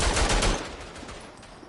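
Gunfire in a Western Front war video game: a loud, dense burst of rapid shots up front that trails off into a sustained rumbling wash of distant firing.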